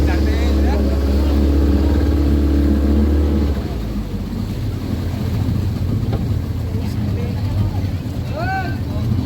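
A small boat runs across open sea toward a larger boat on the way to Khanderi fort, its engine drone loud and close and later dropping away beneath heavy wind rumble and splashing water.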